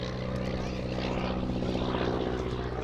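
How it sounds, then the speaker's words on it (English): Auster AOP.6 propeller aircraft flying slowly in a display at an air festival, giving a steady droning engine and propeller hum, moderately distant, with a commentator talking over it. "look at that slow flying"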